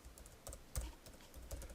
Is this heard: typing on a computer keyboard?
yes